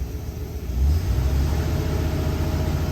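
Engine of a 1975 Lincoln idles close by, then the throttle is blipped, giving a quick rise to a louder, rougher rumble that holds steady to the end; no voices.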